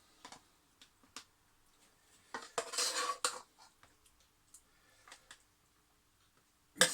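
Metal utensils clink and scrape against pots while leftover meal mixture is portioned out, a quiet run of scattered taps with a denser cluster of scraping midway.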